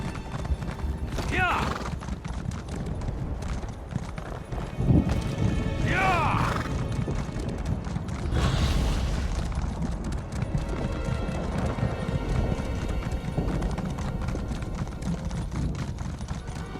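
Horse hooves gallop in steady clip-clop rhythm through The Elder Scrolls Online, loud and close under a dense game soundscape, with occasional whinnies and brief voices or effects rising over the pounding stride.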